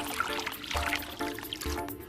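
Water poured into a cup holding a green tea bag, a close, gentle trickling stream with small splashy pulses, lasting about two seconds with no voices.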